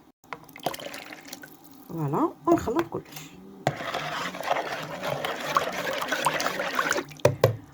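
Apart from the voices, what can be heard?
pouring warm water into yeast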